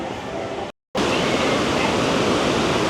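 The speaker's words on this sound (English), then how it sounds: "Well, I say quiet, and then this roaring river back here" A roaring river beside the Grizzly River Run water ride at Disneyland makes a loud, steady rushing wash close by, cut off briefly by a short silent gap before the roar resumes.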